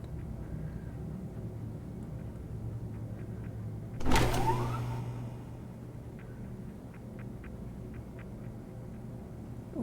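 In The Expanse: A Telltale Series, a spaceship door opens with a sudden clunk and a brief mechanical whir, then settles over a low hum of ship ambience with faint beeps, no talk.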